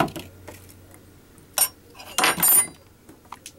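A knife trims a bit of skin off an apple wedge in a home kitchen while making apple pie from scratch, giving a few short scraping clicks and knocks on the cutting surface, with two louder bursts near the middle.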